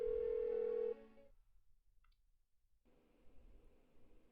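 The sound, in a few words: phone ringing unanswered in Persona 4 Golden video game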